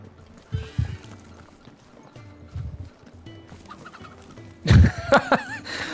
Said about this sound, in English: Look how you can actually scare the fucking chicken.